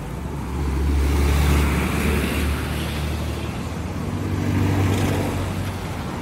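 Road traffic on a highway rumbles past, a steady low drone of cars and heavier vehicles swelling and easing as they pass close by.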